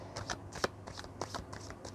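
Tarot cards are shuffled and drawn by hand in a quiet room: soft, quick riffling and flicking bursts, several in a row, faint and close.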